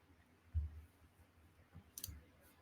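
A computer mouse gives a soft click or two in a quiet room, faint and close, with a low thump before it.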